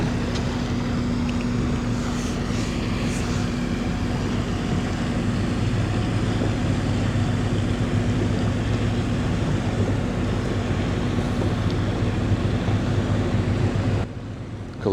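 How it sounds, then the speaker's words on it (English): Two large ships pass each other at Port Colborne, a steady low engine and propeller drone with wind and water wash, constant and moderately loud throughout, fading abruptly at the end. "Here we go, 2 great ships passing one another."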